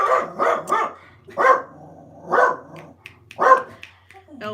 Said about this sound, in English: There'll be a dog out there, no doubt. It'll be a dog.